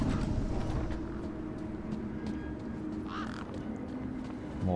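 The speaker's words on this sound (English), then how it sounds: "More friggin' birds." Crows caw repeatedly over a steady ambient hum of traffic and machinery in the video game Beyond A Steel Sky, a few harsh calls standing out midway.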